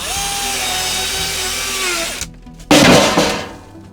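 A power saw whines steadily through a wooden shelf in an old shed for about two seconds, drops out briefly, then bites in again with a louder, rougher burst as it cuts.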